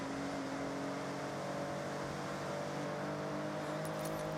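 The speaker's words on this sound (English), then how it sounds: "There goes like a 10 million fucking Ferrari F50." A Ferrari F50 supercar in the Forza Horizon racing game: a steady, loud engine drone with constant tone throughout, no talking.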